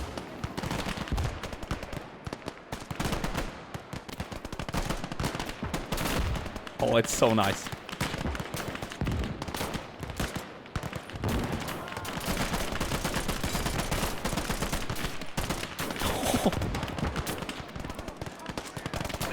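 Bursts of BAR automatic rifle fire from the Gates of Hell war game, in a Battle of the Bulge scenario, with loud rapid volleys throughout and other battle gunfire, while someone talks briefly.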